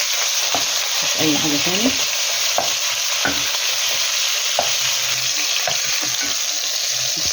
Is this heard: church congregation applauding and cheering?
no